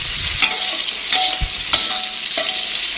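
Pre-fried purple eggplant with spices is stirred in a pan, a steady sizzle of frying under a few sharp scrapes and clacks of the spatula against the pan, with no voices.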